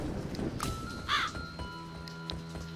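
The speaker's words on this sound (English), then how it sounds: "Handful of grain. Consumable. Summons crow." Crow caws in the video game Menace From the Deep, summoned by a handful of grain, sound out over a busy game backdrop with a few short calls near the start and middle.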